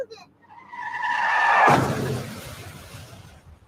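Tires squeal in a rising, sustained skid that ends in a loud, broad crash, then a fading rumble, as a sound effect in a child car-seat safety radio ad.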